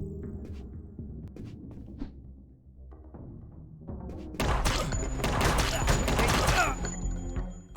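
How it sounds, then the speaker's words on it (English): Gunfire at a guard in the video game UNMETAL, a loud dense burst of shots and crashing impact erupting midway after quieter thumps and hum, filling the last few seconds before cutting off. "I shot a guard."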